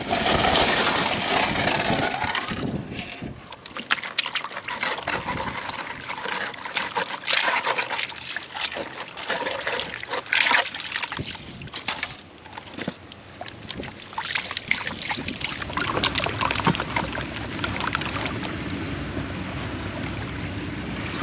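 Gravel and water swirl and slosh in a gold pan, irregular splashing and trickling bursts with brief gritty scrapes, close and fairly loud over about twenty seconds.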